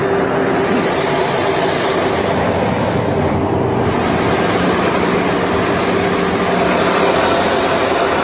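Aircraft taking off from Hindon airbase in Ghaziabad, a loud steady roaring jet rumble filling the whole stretch with no talking over it.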